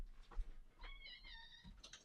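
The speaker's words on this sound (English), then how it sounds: "that cat will not stop meowing until if he wants out of the room" A house cat meows several times at a room door, a faint, rising, drawn-out cry after a few soft knocks and scratches, heard alone in a quiet room.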